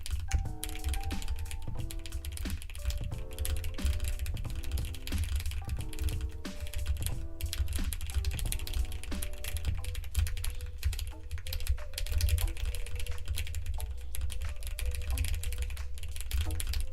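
Typing on a computer keyboard, a continuous patter of key clicks under a background of music with repeating tones, with a faint voice at times.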